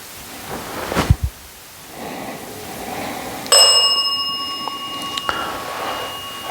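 A bell struck once inside an old church at night, its bright metallic ring hanging and slowly decaying, with a softer second tap near the end, in a quiet room with faint background noise.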